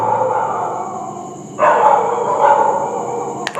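Dogs barking somewhere nearby, a couple of sharp broadband barks breaking in partway through over a steady background hum, with no voice over them.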